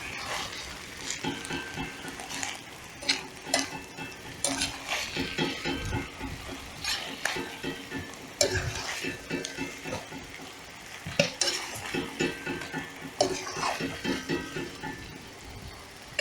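Shashlik meat with lard and onion is stirred in a kazan, a spoon scraping and clanking against the metal in uneven bursts over a continuous low sizzle of simmering fat and juices.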